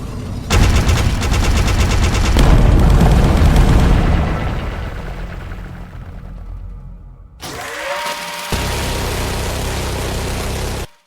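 A Roblox tower defense boss unleashes dense machine gun fire, a loud continuous rattling burst that tapers off, then after a brief swoosh a second steady barrage resumes and cuts out abruptly.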